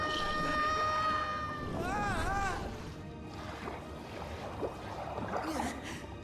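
A whale in the video game Kingdom Hearts Dream Drop Distance gives long, wavering, tonal calls over a rushing watery swirl, with a voice speaking at the same time.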